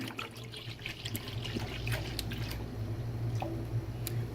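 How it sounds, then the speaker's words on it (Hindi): One litre of milk pours into a non-stick pot that already holds a little water, a steady close liquid trickle and splash with faint clinks, no talk. "1 लीटर दूध ये डालेंगे इसमें"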